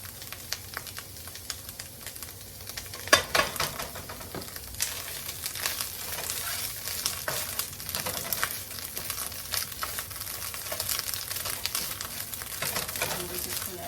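Oil crackling and popping in a pan as tomato paste fries for shrimp birria, a dense, steady sizzle with scattered sharp pops and a louder burst near the start, close up and without talk.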